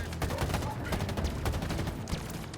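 Turret gunfire in Halo Infinite, a dense, rapid fusillade of loud shots hammering without pause across the whole stretch, with faint talk barely under it.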